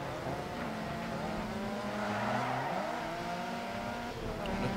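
Group B rally car racing in DiRT 4, the engine revving and droning continuously with shifting pitch as it accelerates and changes gear, steady and moderately loud with tire noise, no talk.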